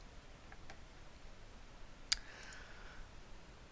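Computer mouse clicks while moving through a certification software page: one sharp close click stands out, with a couple of fainter ones earlier, over a steady background hiss.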